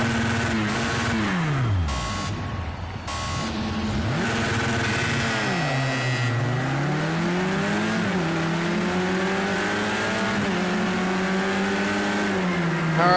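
A race car engine in Project Cars 2 during a night race at Brands Hatch screams loud and close, climbing and dropping in pitch through repeated upshifts and corner braking for a sustained stretch.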